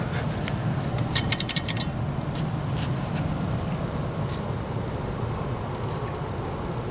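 A Montgomery hydraulic elevator in a library courtyard runs slowly with a steady high whine and a low hum, plus a brief burst of rapid mechanical clicks early on.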